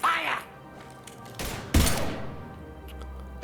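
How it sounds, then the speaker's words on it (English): Gunfire erupts in the video game Mass Effect 3 Legendary Edition, two short heavy bursts of shots with a thudding impact, ringing out after a stretch of quieter game ambience. "Now open fire!"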